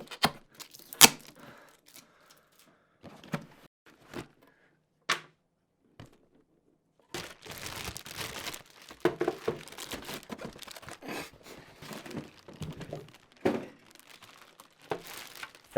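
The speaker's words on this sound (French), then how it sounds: "Dans un premier temps, déballons-le." A Nintendo Switch steering wheel and pedals set being unboxed: cardboard and plastic packaging crinkles, tears and rustles in scattered bursts with pauses, then denser handling near the microphone.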